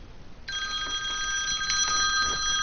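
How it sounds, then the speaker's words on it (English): An incoming call sets a telephone ringing after a brief pause: a steady, bright electronic ring that holds at close range, with no voices. "Oh, I got a phone call, so that's the end of this."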